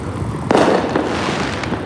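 Fourth of July fireworks over a Coney Island neighborhood in Brooklyn, a cluster of crackling bursts and pops at middle distance over a rumbling outdoor background, with one sharper bang standing out.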